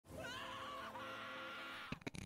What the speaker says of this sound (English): His scream there is so real.